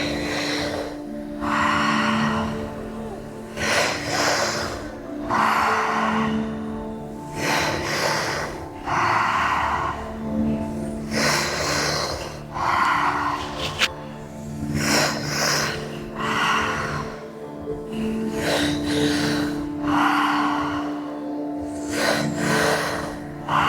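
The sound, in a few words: deep breathing during guided breathwork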